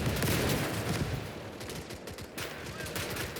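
Rapid gunfire from soldiers in the video game Call to Arms: Gates of Hell, a loud dense fusillade of overlapping shots and bursts that crackles steadily through the whole stretch.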